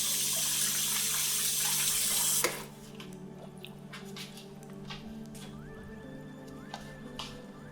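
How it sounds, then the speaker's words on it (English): Tap water runs hard into a sink as someone washes their hands, a loud steady rush that cuts off abruptly after about two and a half seconds, leaving quiet room tone with faint clinks. "Gotta wash your hands."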